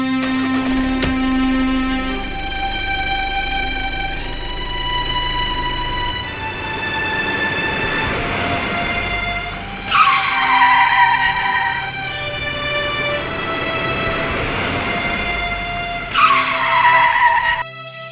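A car in a Hindi movie scene pulls away with tires skidding, a long screeching whine over engine noise with two sharper squeals near the middle and end, loud and close with no talking.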